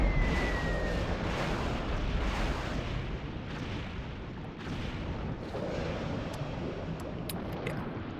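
Ship-launched missile strikes explode in a Japan 1936 sandbox game of Supreme Ruler 2030, a dense, continuous rumble of overlapping blasts and bursts with a brief whistle early on, steady and loud throughout.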